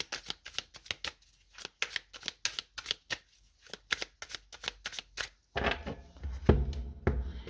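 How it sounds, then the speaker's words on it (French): Tarot cards are shuffled with quick, regular riffling flicks, then slapped down and spread on a table in a denser, louder burst of card noise, close and without speech. "Je vais poser 6 cartes parce que vous avez 6 lettres dans votre signe astro"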